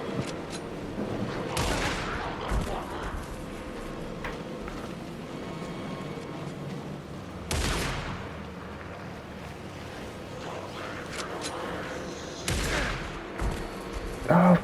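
Gunfire in the video game Alan Wake II: three loud, broadband blasts spaced several seconds apart, standing out over a constant rumbling, windy game ambience.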